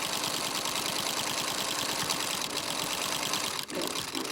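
A sewing machine top stitches close to the edge of a fabric mask, with a dense, rapid mechanical chatter running steadily and close, broken by a brief dip near the end.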